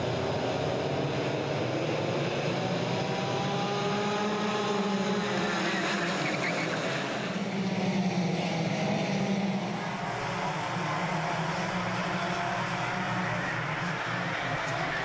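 Heavyweight sprint racing karts on the Rye House track in a Club100 championship final, a continuous loud engine drone with rising and falling pitch as karts accelerate and brake nearby.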